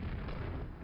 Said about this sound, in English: I think the explosion on these could be a little bit bigger.